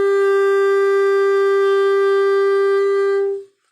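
A clarinet holds a single sustained A note, steady and clear with rich overtones, for about three seconds before stopping cleanly.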